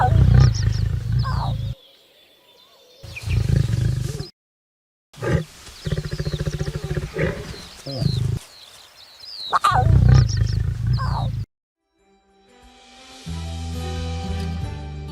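Lions of a pride in South Africa during the harsh dry season call out in deep, rumbling roars, heard in several loud bursts separated by short silences, with a final stretch of low rumbling and a fainter, more distant texture.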